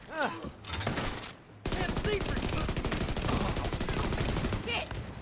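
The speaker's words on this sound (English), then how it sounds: "Could you just not rapid fire me to death?" Sustained rapid automatic gunfire in a video game, dense and continuous for several seconds after a brief burst and pause, with a player's voice speaking over it.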